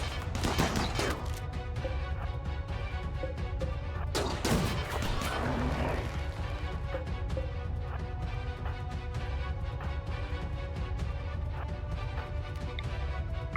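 Combat in RimWorld Biotech opens with a burst of gunfire and crashing impacts, then a volley near the middle, after which a denser rumble of fighting continues; loud and close, with a faint voice now and then.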